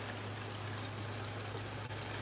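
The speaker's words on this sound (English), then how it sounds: "I'm going to wash our dishes." Kitchen tap water runs in a steady, close rush while dishes are washed during home cooking, with no talking.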